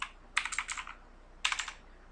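Quick bursts of typing on a computer keyboard, two short flurries of crisp keystrokes separated by a pause, close and fairly quiet.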